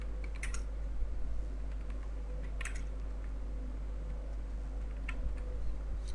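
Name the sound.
typing on a computer keyboard in CorelDRAW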